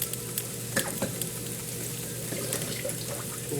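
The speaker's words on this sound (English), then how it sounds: "So yet again, I'm going to wash my hands." Hands are washed under a running kitchen tap, giving a steady close hiss of flowing water with small splashes and clatters on top, and no talking.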